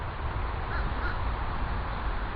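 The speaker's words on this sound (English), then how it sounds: "It's a crow." A crow caws twice at a distance over a homestead garden, brief harsh calls sitting above a steady low rumble of background noise.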